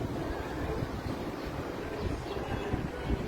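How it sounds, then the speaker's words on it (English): Wind blows steadily beside Lake Michigan, a broad, constant rushing roar that buffets the microphone with low rumbles and stays at an even level throughout. "This is the afternoon when you see the wind is blowing"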